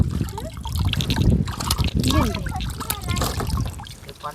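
Water runs from a tap while someone washes their face, a steady near trickle and splashing under conversation in Chhattisgarhi.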